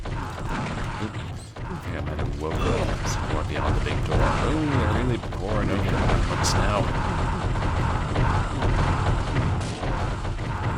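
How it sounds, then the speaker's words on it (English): Gunfire and heavy booms from a shotgun in a short horror video game, layered densely over game music and rumbling effects throughout, with a speaker's voice mixed in under the action. "I hear a shotgun"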